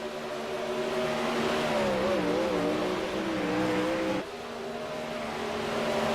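Race cars roar through a heat race with three laps to go, a loud continuous engine drone with rising and falling pitch as cars pass, dropping briefly before building again.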